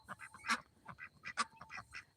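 Several farm ducks quack and honk in quick, overlapping calls, close and moderately loud, with a short gap between two clusters of calls.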